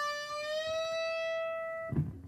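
Electric guitar string on the 15th fret bent up a full step. A single clear sustained note rings with bright harmonics and its pitch creeps slightly upward, then it cuts off abruptly with a soft thud.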